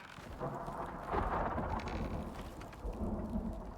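Steady heavy rain pours down while low thunder rumbles and swells through the middle, a dense, continuous storm with lightning in the video game Icarius, with no voices.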